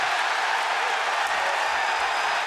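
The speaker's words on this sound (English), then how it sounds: "the Brooklyn crowd went crazy" A live wrestling crowd at SummerSlam in Brooklyn cheering for Becky Lynch, a dense, sustained roar of many voices filling the arena at steady volume throughout.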